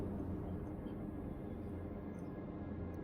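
A fast spaceship flies in the Star Citizen game, giving a steady low engine roar and rumble with a faint high hiss, constant and moderately quiet, with no talking.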